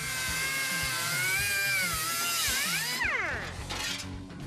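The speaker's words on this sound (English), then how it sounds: "Now I can start cutting up these brand new tubs" Power cutting tool slicing through new sheet-metal wheel tubs for a 1967 Pontiac LeMans, a steady high whine with a rhythmic low thump, pitch sweeping down near the end as the cut loads up, close and loud.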